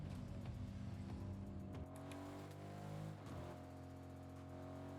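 A car engine in a video game hums low and steady, with a couple of shifts in pitch as it drives along. It stays faint and has no talk over it.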